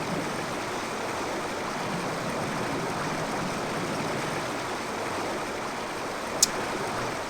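A waterfall in the video game Indiana Jones and the Great Circle, a steady loud broadband rush of falling water that holds unchanged throughout, with one tiny click near the end.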